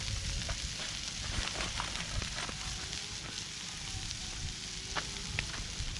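Onions simmering and browning in a pan at a camp cooking setup, a steady, close frying sizzle with small crackles throughout, no talking.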